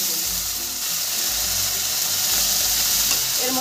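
Raw prawns are dropped into a hot frying pan with chillies and sizzle loudly and continuously, with faint stirring and pan scrapes under the frying.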